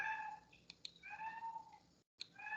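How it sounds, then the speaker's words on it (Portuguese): A house cat meows several times at close range, a drawn-out cry followed by short high calls, with a brief silent gap between them and no talking. "Esse é o meu gato lá, chorando, gente."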